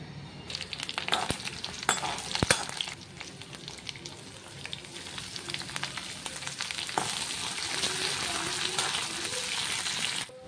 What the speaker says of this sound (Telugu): ఇక్కడ నేను ఒక కడాయిలో కొంచెం ఆవాలు, జీలకర్ర, చిన్న ఆనియన్ వేసి ఫస్ట్ ఆకుని వేపుకోవాలి